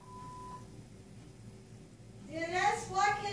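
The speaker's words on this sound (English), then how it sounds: "Please leave a message after the tone." An answering machine gives a single steady electronic beep tone, quiet and near. It ends, and a voice starts speaking over faint background hiss.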